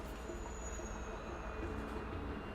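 A train rumbles steadily past in the Alpha Protocol video game, its wheels squealing thinly over a dense continuous roar, no voices.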